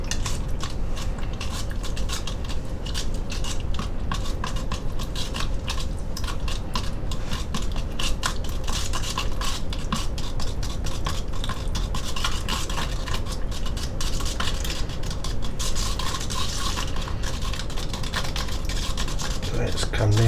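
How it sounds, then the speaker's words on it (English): A brush handle stirring mud-coloured model scenery paint, a steady scraping and knocking against the pot that keeps going, close and moderately loud. "I'm going to use a handle of another brush as a mixer"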